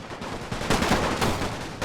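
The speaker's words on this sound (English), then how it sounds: "it looks like my men are firing within their bunkers" Rapid, dense rifle fire from line infantry dug into World War I bunkers and trenches in a strategy war game, a continuous crackling fusillade of overlapping shots at moderate distance.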